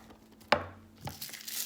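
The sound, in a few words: coarse chopping an onion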